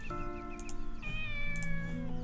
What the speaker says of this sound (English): Now you have to hear that cat every time